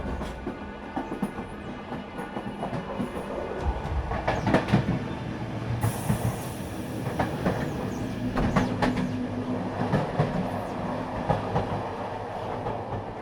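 A moving train rumbles steadily with rhythmic clickety-clack of wheels over rail joints and occasional brief squeals, continuous and fairly loud throughout, with no voices.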